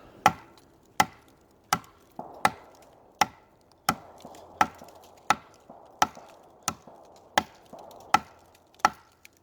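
A knife blade strikes a very hard block of wood about a dozen times in an even rhythm, each chop a sharp, close, solid crack that fades quickly, with nothing else sounding between blows.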